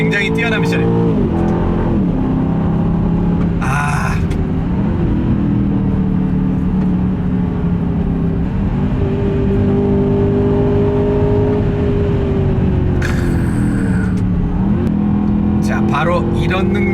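An Aston Martin DBX SUV with a nine-speed gearbox, engine droning and rising in pitch as it accelerates, with gear shifts audible as dips and climbs, steady and loud inside the cabin; someone talks over it.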